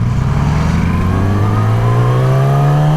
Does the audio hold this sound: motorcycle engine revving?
yes